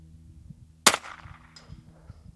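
One sharp handgun shot cracks out at an outdoor shooting range, loud and close, with a short ringing decay afterward and faint background noise.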